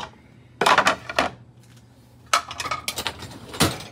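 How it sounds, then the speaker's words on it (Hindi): Dishes being unloaded from a dishwasher at home, a few sharp clinks and clatters of plates and cutlery in two short clusters separated by quiet, close and fairly loud. "डिश से निकाल लूँगी बर्तन।"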